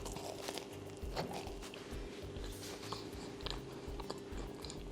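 A fluffy strawberry jam bun is bitten and chewed close up, with soft, steady chewing and squishing noises over a few seconds. No one speaks.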